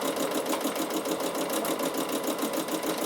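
A Bernina sewing machine fitted with a ruffler foot runs steadily while stitching tucks, producing a continuous fast mechanical whirr with an even rapid clatter, close and unbroken, with no talking.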